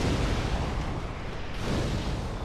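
In Dark Souls, in the Painted World of Ariamis, a pyromancy fire blast roars as a dense, loud burst of rushing flame and rumble that fills the whole moment without easing.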